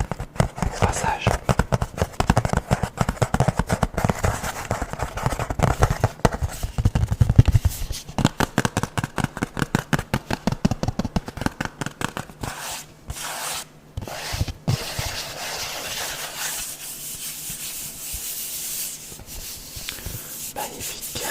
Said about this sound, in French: avec ça tu as le steelbook ici comme tu peux entendre